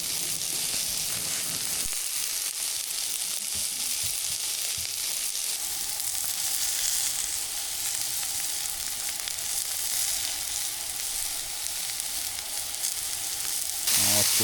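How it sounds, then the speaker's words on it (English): Ham, potatoes and onions fry on a Blackstone griddle with a dense, steady sizzle that runs continuously, close and without speech. "We'll cook down the potatoes and onions first on the Blackstone."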